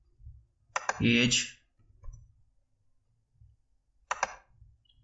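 Mouse clicks while filling in a census form on a computer, two sharp close clicks about three seconds apart, with a brief spoken word between them in a quiet room.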